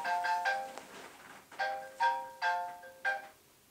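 A Nokia 2720 mobile phone rings with a bright, melodic ringtone, bursts of electronic tones repeating in a quick rhythm, clear and fairly close with no talking.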